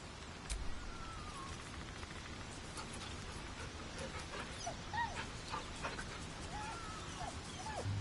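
A dog whimpers in Baldur's Gate 3, soft high whines and short yips rising a few times over a quiet game background, fairly faint and close.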